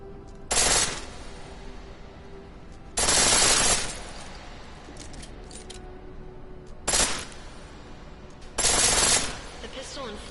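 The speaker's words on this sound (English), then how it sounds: "The pistol in full auto will take down targets fast, but it'll burn through your ammo" Rapid bursts of a pistol fired in full-auto mode in Deus Ex: Mankind Divided, four loud sustained volleys separated by quieter game ambience with a low steady hum.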